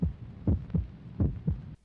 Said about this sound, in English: The sound of a heartbeat over the credits with the woman's disembodied head silently yelling at us.